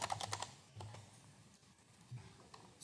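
Quick bursts of keystrokes on a computer keyboard while entering a quiz answer, light clicky taps in short clusters with pauses between, close and fairly quiet, no talking.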